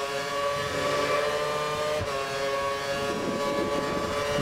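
Formula 1 race cars in the F1 2013 video game at the Singapore circuit, a steady high-pitched engine whine droning loudly and continuously, close, with no talk.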